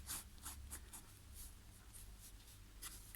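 A Parker Vector pen sketching lightly on paper, with faint, soft, irregular scratchy strokes, close and quiet.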